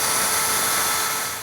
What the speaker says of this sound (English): With these small drill bits, you run them at pretty high speed on a drill